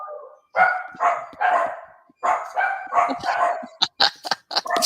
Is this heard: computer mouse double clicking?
no